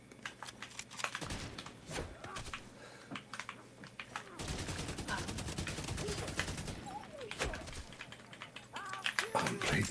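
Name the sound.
gunfire in a video game on Google Stadia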